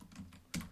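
A few quick keystrokes on a computer keyboard, close and fairly quiet, ending in one louder tap, with no voices.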